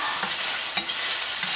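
Onions caramelizing in a hot pan with onion powder, a dense, steady close sizzle with a couple of soft stirring scrapes.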